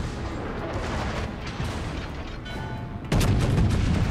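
Heavy naval gunfire in a battleship video game, a continuous rumbling barrage of booms with a louder, denser burst of firing arriving near the end.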